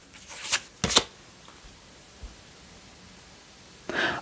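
Oracle cards being drawn from a deck: two quick papery rustles and slides close up, a lone soft tap, then a final brief card scrape after a quiet pause.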